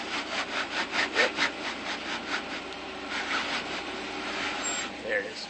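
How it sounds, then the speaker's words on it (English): A tire sidewall rubbing and scraping against rock while a vehicle crawls slowly off-road on a trail at Bronco Peak, California: a close, rough grinding with pulsing strokes, continuous over several seconds. "you were rubbing the sidewall on your tire"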